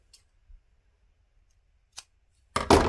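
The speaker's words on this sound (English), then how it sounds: "you can mark it by just cutting a tiny little cut" Scissors make a few crisp, close snips into fabric to cut a small notch for a floppy-eared bunny sewing project, then a louder rustle of handling follows.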